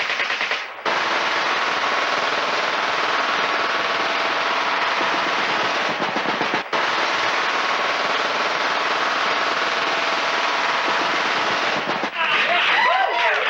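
A handgun fitted with a machine-gun ammo drum fires rapidly in long continuous bursts, loud and close, with a brief pause near the start and another midway, and no talking over it.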